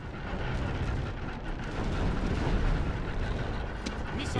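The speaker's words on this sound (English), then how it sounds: "So the catapults can fire at them without issue." Catapults firing during a large battle in the strategy game LOTR Remastered, a dense rolling roar of distant booms and crashing impacts that swells midway and stays busy throughout, with no speech.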